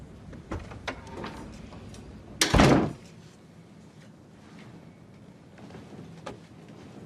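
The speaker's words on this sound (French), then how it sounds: "Ferme la porte derrière toi." An interior door pushed shut in a quiet room, giving one solid thud with a short rattle about midway, surrounded by faint shuffling and small handling knocks.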